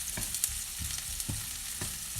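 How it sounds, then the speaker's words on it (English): Onion frying in a saucepan, a steady bright sizzle with a few soft stirring scrapes and knocks at irregular intervals, close and alone without talk. "So we let it fry a little bit, the onion"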